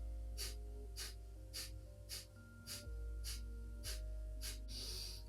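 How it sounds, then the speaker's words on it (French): Kapalabhati yoga breathing, a steady series of about ten sharp, forceful nasal exhalations roughly every half second, close and clear over a soft sustained musical drone, ending in a longer breath. "On va donc faire les expirations à un rythme très très rapide, beaucoup plus rapide que pour une respiration normale"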